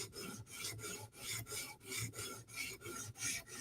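A sharpening stone rasps back and forth along the bevel of a Spyderco knife, a steady rhythm of about a dozen close, loud strokes with brief pauses between, no voices.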